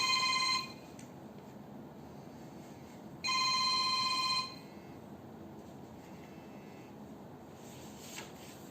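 A mobile phone rings in two bursts of a bright electronic ringtone, each lasting about a second, separated by a quiet pause in a lecture room, clear and fairly close with no one speaking.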